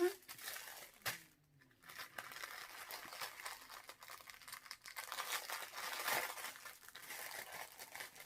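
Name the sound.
opening a plastic bookmark packet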